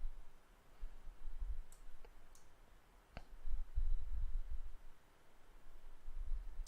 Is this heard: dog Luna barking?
no